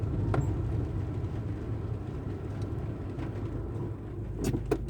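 A car drives through the town of Greymouth, with a steady low road rumble and engine drone throughout and a few faint clicks and knocks from inside the vehicle. No one speaks.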